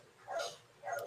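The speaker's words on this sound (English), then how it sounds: "the dog that's barking is my dog" Two quick, faint barks from a dog outdoors, muffled and distant, with a short gap between them.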